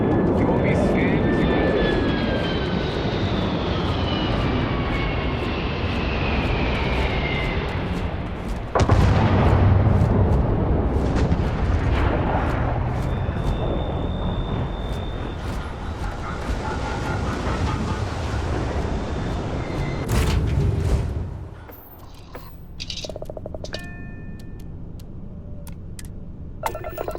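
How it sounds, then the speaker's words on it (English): Spaceship engines firing in the Starfield video game build into a loud, broad rumbling roar, surge sharply partway through, then cut off abruptly near the end, leaving scattered clicks and tones. "Engines firing."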